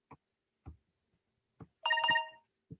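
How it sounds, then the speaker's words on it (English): A phone notification chime, a short bright multi-tone ring sounding once, clear and close, between soft taps and clicks. "Oh, your notification just came through, so it did click in your side."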